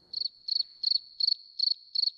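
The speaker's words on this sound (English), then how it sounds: "I feel as though we might have just heard crickets." Six evenly spaced cricket chirps, each a quick trill of pulses, repeat at a steady rhythm over near silence, clear and close.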